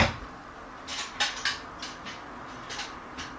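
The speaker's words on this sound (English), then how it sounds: "Then time for the lid to go on." A stainless steel fermenter bucket lid set in place, heard as several close, bright metallic clanks and taps spread unevenly over a few seconds, with no talking.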